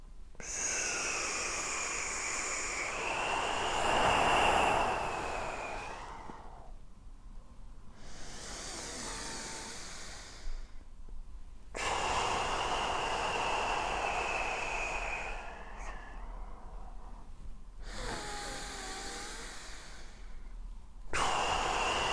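Deep, loud meditation breathing: slow, long inhales and exhales close to the microphone, repeated several times in a steady rhythm with short pauses between.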